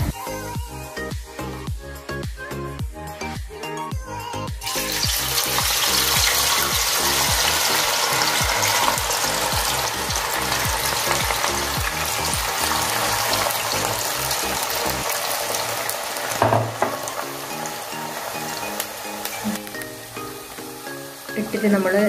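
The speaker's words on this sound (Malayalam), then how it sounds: "ചീനച്ചട്ടി വെച്ച് എണ്ണ ചൂടായി അതിലേക്ക് അങ്ങ് ഇട്ട് കൊടുത്താൽ മതി" Raw banana slices dropped into hot oil in a pan for home-made Onam fried chips. After a few seconds of rhythmic tapping, a loud, steady, crackling sizzle takes over and fills the rest of the time.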